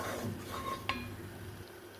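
A roux being stirred in a pan for a French chicken and mushroom sauce, with soft continuous scraping and a brief utensil clink against the pan partway through, steady and close.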